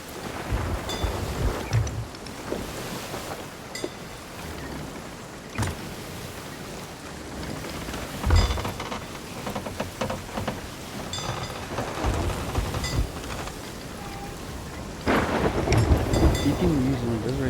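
Video game storm at sea with a fleet of boats, with rumbling thunder bursts over steady rain and water noise, loud and continuous, with game effects and a faint voice in places.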